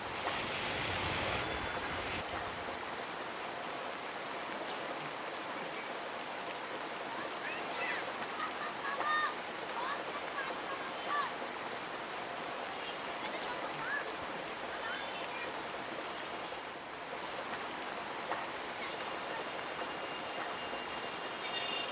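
Heavy rain pours onto a terrace garden in the evening, a dense, loud, unbroken hiss of drops lasting throughout, with a voice faintly audible beneath it.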